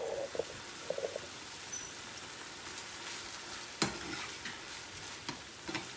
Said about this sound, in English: So I'm making ground pork right now with miso.